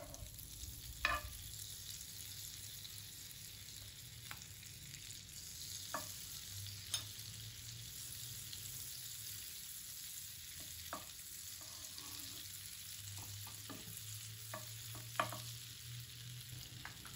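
Pav bread frying in butter on a hot pan, a steady soft sizzle with occasional clinks and scrapes of handling, close and fairly quiet, no talking.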